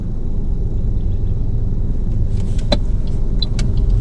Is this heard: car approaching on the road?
yes